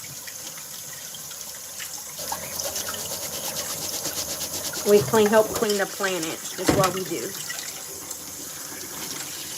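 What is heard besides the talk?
water running from a tap into a jar or bowl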